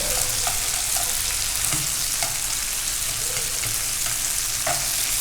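Large marinated shrimp stir-fry in a hot pan for mì Quảng, giving a loud, constant sizzle close by, punctuated by periodic soft clacks of stirring, with no voices.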